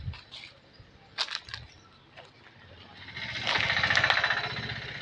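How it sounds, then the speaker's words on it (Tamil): Three tethered goats make faint bleats near a home farm, with a louder, wavering bleat rising toward the end over low background noise. "இந்த 3 வெள்ளாடு மட்டும்தான் இங்கே கட்டியிருக்கோம்"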